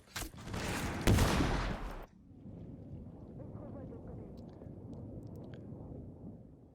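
Burst of intense gunfire from a Rainbow Six Siege match, loud and dense for about two seconds, then cutting to a lower rumbling background of distant shots and ambience that carries on to the end.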